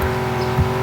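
A Ford Shelby GT350R engine howls at high revs in a driving video game, a loud, steady, close roar that holds its pitch through the brief moment.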